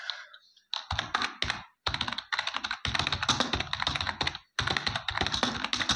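Rapid keyboard typing while HTML boilerplate code is entered, with steady clicking keystrokes in quick bursts and short pauses, close and fairly loud, no voices.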